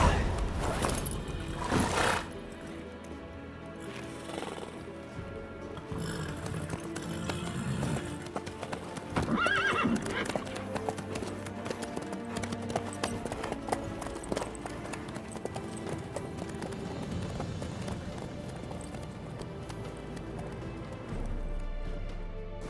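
Horse hooves clip-clop steadily through The Witcher 3, with occasional whinnies and a persistent game soundscape underneath; brief talk drifts in now and then.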